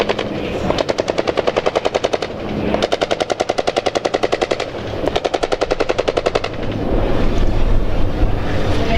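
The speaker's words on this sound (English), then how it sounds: "Laying a smoke screen as they go and opening fire." Bursts of rapid automatic gunfire from tanks during a military battle demonstration at an air show, three long rattling volleys separated by brief pauses, heavy and close, with wind rumbling over the microphone.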